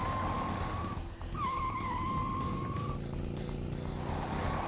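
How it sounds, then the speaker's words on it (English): A motorcycle engine revs in a video game, its whining tone climbing and dipping while tire skids and road noise surge steadily beneath for the whole stretch. "Good thing he knows how to ride a motorcycle."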